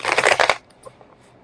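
A deck of tarot cards is shuffled in a quick, crisp riffle lasting about half a second, loud and close, followed by a few faint soft taps.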